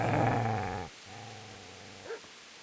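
Dog growling and barking in the video game Kingdom Come Deliverance, a loud rough snarl followed by quieter growling and a short yip, near and alone.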